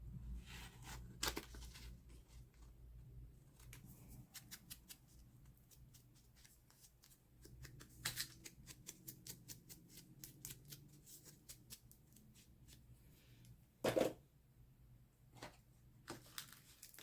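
Scissors snip through tape amid rustling and crinkling handling noises, a mix of quiet crisp clicks and rapid flurries of small ticks, with one louder burst near the end, all close and soft.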